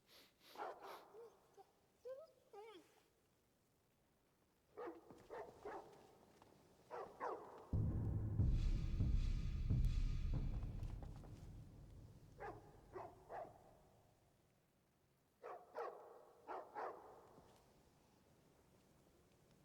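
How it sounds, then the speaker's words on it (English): A stray dog in Skyrim barks in several short bursts, with sharp yips and a long rough stretch in the middle, loud and close, between quieter gaps. "where's the dog? Stray dog."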